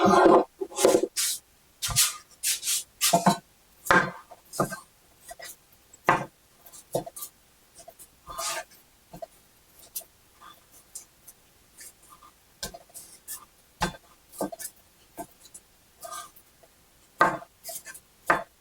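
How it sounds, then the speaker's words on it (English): Knife chopping breakfast casserole ingredients into chunks on a cutting board, a long run of sharp, irregular close taps with brief pauses between bursts. "I'm going to chunk that up a little bit."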